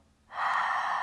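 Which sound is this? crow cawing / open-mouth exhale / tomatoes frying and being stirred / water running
open-mouth exhale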